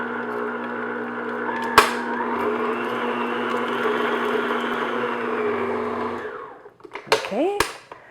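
An electric mixer beats room-temperature butter on medium speed, a steady close whirring drone for several seconds that stops abruptly, followed by a few clicks and knocks.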